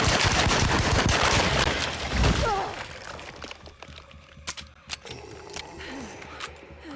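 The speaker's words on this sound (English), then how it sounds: "The Tommy gun is not terribly powerful. It took around 19 bullets to take one of those out." A Tommy gun fires in the 2024 video game Alone in the Dark, a dense rapid burst of loud automatic shots followed by scattered single pops and clicks as the firing trails off into quieter thumps.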